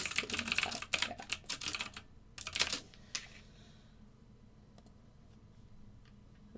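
Rapid clattering keystrokes on a computer keyboard come in dense bursts for a few seconds, then thin out to a few scattered clicks before near quiet, close and fairly loud.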